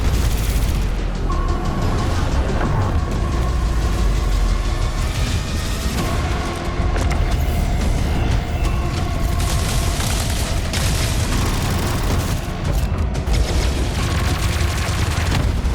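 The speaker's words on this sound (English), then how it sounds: "It's very laser battle-y with the Volt gun and the ship weapons." Laser guns and spaceship weapons fire in the Star Citizen video game, a loud continuous barrage of booming blasts with recurring tonal zaps over a dense rumbling background.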